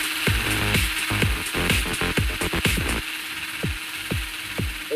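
Drills being set up during a jewelry store heist in the game Payday 2, a run of rapid mechanical ratcheting clicks and thumps with a steady mechanical background, loud and close, no talking.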